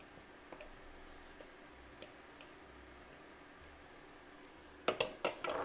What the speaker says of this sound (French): Et on va balancer la deuxième crêpe. Là, vous voyez, la poêle est très très chaude.